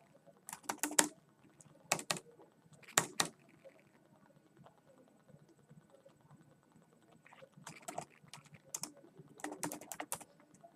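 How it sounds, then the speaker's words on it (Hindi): Fingers typing a short word into a computer search box, several brief bursts of quiet key clicks separated by pauses, close and soft in an otherwise quiet room. "जैसे कि मैंने यहाँ पर टाइप किया स्टॉक"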